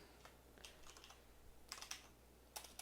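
Keys clatter on a computer keyboard in short irregular bursts, quiet and close, with a few sharper clicks near the end.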